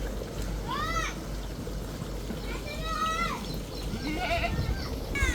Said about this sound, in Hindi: आपको दिखा देते हैं छोटा सा बकरियों का फार्म